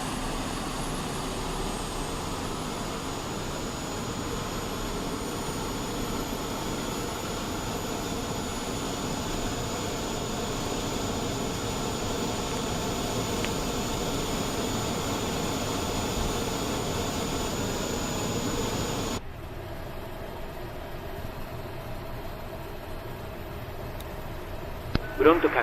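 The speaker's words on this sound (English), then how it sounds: "APU sounds nice on this thing" An Airbus A320 auxiliary power unit runs in the Fenix flight simulator as a steady, even turbine drone with a thin high whine, cutting to a quieter rumble near the end.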